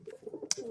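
Short pigeon coos, a few soft low murmuring calls close by, with one brief sharper chirp partway through.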